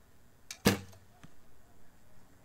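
An arrow shot from a recurve bow fitted with all-carbon Uukha Ex-1 Evo2 curve limbs, a single sharp, loud snap of release followed by a brief low thrum and a faint later tap, otherwise quiet.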